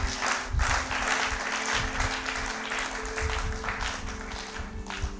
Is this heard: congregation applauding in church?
yes